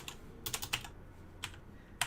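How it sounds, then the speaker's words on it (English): Fingers mash a computer keyboard to enter random numbers, producing a few quick clusters of sharp key clacks with short pauses between them, quiet and close, with no talk. "I'm just going to put random numbers in by mashing the keyboard."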